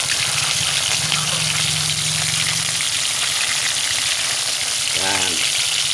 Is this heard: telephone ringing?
no